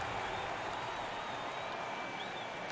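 An NBA arena crowd at a Clippers versus Warriors season opener cheers and applauds as the game is tied late, a steady, fairly distant wall of clapping and crowd noise under a faint broadcast tone.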